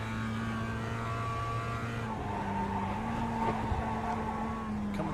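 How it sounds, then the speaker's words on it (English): Mazda MX-5 race car in iRacing braking hard and sliding into the Tamburello corner at Imola, a steady engine drone with sustained tire squeal, loud and close throughout. "He's on the brakes, sliding it into the Tamburello."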